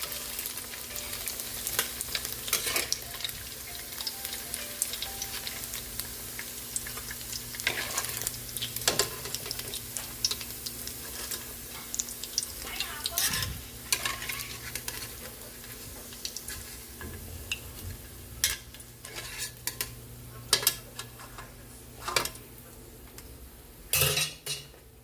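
Fried tofu and bean sprouts sauté in a hot pan, with a steady sizzle and frying hiss under repeated scraping and clinking of a utensil against the pan.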